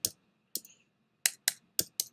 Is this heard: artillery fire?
no